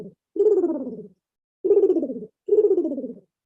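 A human voice imitates a male pigeon cooing, with three drawn-out, throaty, warbling coos separated by short pauses, close and fairly loud.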